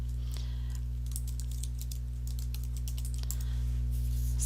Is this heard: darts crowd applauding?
no